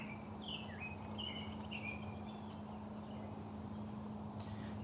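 Birds chirping and trilling in the woods, short bright calls repeating at a moderate distance over a steady low hum of background noise.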